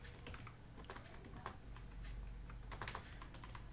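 Continuous close-up typing of code on a computer keyboard, a dense stream of key clicks with a few louder strikes, steady throughout with no talking.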